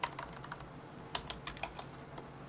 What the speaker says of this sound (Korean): 먼저 시작 버튼 눌러가지고 CMD를 누르겠죠